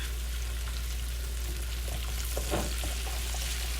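Lamb loin chops sizzle loudly and steadily in butter and olive oil with herbs and seasonings, with soft spattering and splashy basting strokes rising briefly near the end over a low hum.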